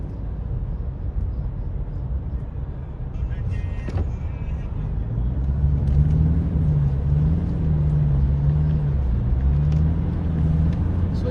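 Convoy of cars carrying Chief Minister Sohail Afridi on a motorway, a continuous loud rumble of traffic and engines with a passing vehicle droning low, while someone talks over the noise.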